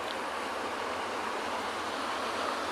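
Broadband ocean surf rolls steadily at Penguin Beach as the tide comes in, a continuous wash of waves heard from close by with no voices over it.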